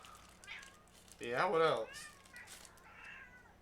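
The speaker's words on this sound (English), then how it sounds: "And that's a kitty cat." A pet kitty cat gives a single drawn-out meow midway, close and clear, while people chat quietly before and after it.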